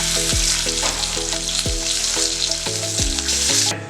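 Crab pieces frying in a hot pan of oil for a spicy crab curry, a loud steady sizzle with the crackle of stirring running throughout, no voices.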